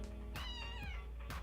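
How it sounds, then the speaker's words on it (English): A cat meows in a few drawn-out, rising and falling calls with short gaps, close and fairly quiet, with no talk over it. "This cat. Come here, kitty."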